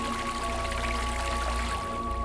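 Burbling water in an art installation, a steady, close wash of flowing and trickling water with no pauses, mixed with a constant low tone.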